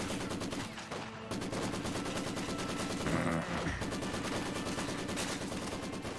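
An MG34 machine gun firing in Company of Heroes 2: rapid, continuous bursts of automatic fire, crisp and fairly close, rattling steadily over a busy battlefield background.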